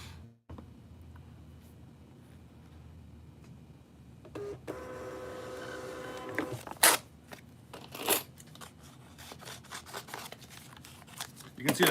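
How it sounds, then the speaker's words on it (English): Scissors snip through shipping labels in a quiet room, a few crisp cuts and rustles following a stretch of mechanical whirring, with paper handling sounds scattered near the end. "You can see that I cut my labels."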